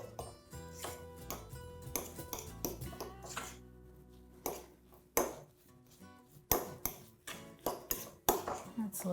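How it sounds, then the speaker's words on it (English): A fork clinks and taps against a bowl while stirring crumbly scone dough, in quick irregular bursts of scraping and pinging throughout, fairly close and moderately loud, with no voice over it. "I'm just going to use my fork to get this stirred together."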